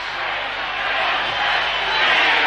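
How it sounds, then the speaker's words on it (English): A large stadium crowd at a 1976 Queensland versus New South Wales interstate rugby league match gives a steady, dense roar of voices, chanting and cheering from all around without a break. "Restart play down to the fullback Mills as the crowd are chanting for Queensland"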